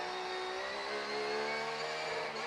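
A race car in an IMSA GTD Pro championship race accelerates hard as the pit lane speed limiter is released, its engine note rising in a loud, steady roar that holds for the whole stretch with no pauses.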